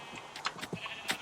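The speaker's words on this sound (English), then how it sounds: "I think I'm actually going to take these sheep through the back way." Sheep bleating in Minecraft, several short nasal bleats in quick succession from livestock near a fence, moderately close and alone without talk.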